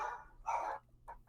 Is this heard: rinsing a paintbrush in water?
no